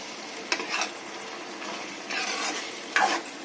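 Washed chicken pieces frying in hot oil in a pan for an Andhra-style chicken curry, a soft steady sizzle broken by a few louder stirring scrapes and bursts.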